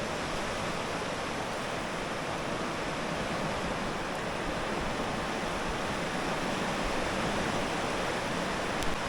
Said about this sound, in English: this is the world's fastest flowing water